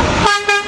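Short tonal honk from a car horn, sounding at a street protest along a fault line in Richmond, Virginia, blaring in a brief burst with a quick second blast.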